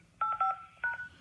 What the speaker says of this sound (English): Your touchtone phone, please enter your PIN number.